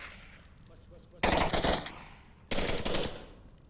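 Two loud bursts of automatic gunfire in the VR shooter Onward during a competitive match, a player rounding a corner while firing, each burst about half a second long with a short pause between.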